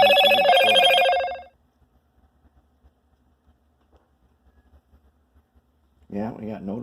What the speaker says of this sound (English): we got notifications of stuff going on everywhere, don't we? There's always some computer noises.